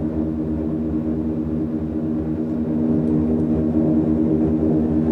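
Tecnam P2006T twin-propeller plane in Microsoft Flight Simulator, a loud steady droning hum of the engines and props that swells slightly partway through, with no talk.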